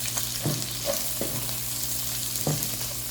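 Garlic, onion and tomato sautéing in hot oil in a pan, a steady sizzle punctuated by several scraping stirs of a utensil, close and continuous.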